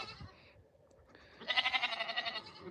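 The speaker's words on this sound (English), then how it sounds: "Nigerian dwarf mixed with Nubian. And that guy there is a pygmy goat. So they are two different types of goats." Hybrid baby goats, a Nigerian dwarf and Nubian mix, bleating close by, with one short cry followed by a longer wavering, quavering bleat.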